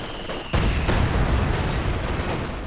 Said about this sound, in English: that's the 120mm mortar